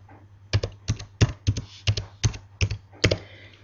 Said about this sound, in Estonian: Siis on vaja trükkida parool.